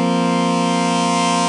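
A sustained synth pad in the Vital software synthesizer morphs through a wavetable, producing a steady, loud, harmonically rich drone with many stacked tones and a slowly shifting, siren-like timbre, heard alone without talk.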